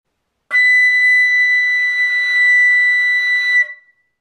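A single sustained flute note B, a high B produced with fast air, held steady and clear for about three seconds with a sharp onset and a short fade, played alone with no talking.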